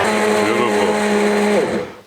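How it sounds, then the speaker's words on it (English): A hand blender running at full speed through green pea and smoked ham soup gives a loud, steady motor whine for about two seconds, with a brief pitch change as the blade shifts, then winds down at the end. "my hand blender and go full blast"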